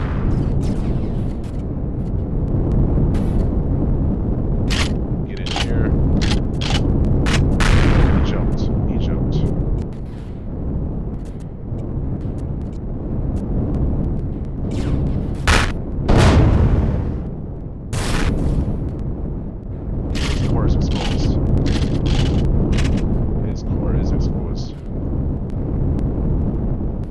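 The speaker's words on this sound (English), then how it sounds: "Got him with a heavy blaster." Heavy blaster fire and explosions in the space game Empyrion Galactic Survival, Reforged Eden: repeated loud booming blasts and bursts in irregular clusters, with dense rumbling between hits.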